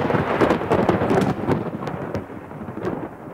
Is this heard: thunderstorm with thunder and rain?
yes